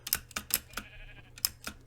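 A faint Minecraft sheep bleat, thin and quiet, among sparse clicking taps in a let's-play session.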